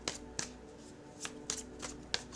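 Tarot cards being shuffled by hand, with about six crisp riffling snaps and slaps at uneven intervals over a quiet background hum.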